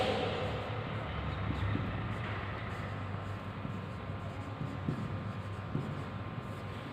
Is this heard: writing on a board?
yes